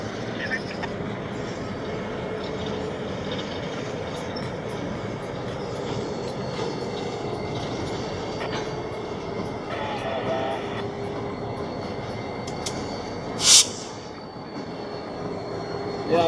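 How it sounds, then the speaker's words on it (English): Autonomous Lake Michigan & Indiana Railroad locomotive reversing into a rail yard, a continuous heavy rumble with wheel clatter and a brief sharp hiss near the end, heard from a distance. "The autonomous locomotive reversing there into the yard."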